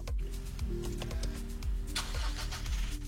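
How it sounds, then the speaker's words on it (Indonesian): A car engine cranks with rhythmic, repeated starter pulses and rumbles up as it catches, loud and close, with no voices. "begitu kita masuk ke mobil dan kita nyalain mobil"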